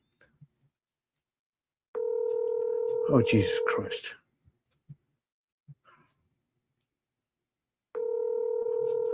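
Outgoing UK-style call ringback on a phone, a long ring tone, silence, then another ring, with a dog barking and a man muttering over the first ring.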